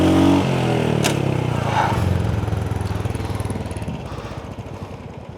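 A Royal Enfield motorcycle with a dead battery is bump-started by letting out the clutch in second gear; after a few loud thumps the engine settles into a steady, close, pulsing idle.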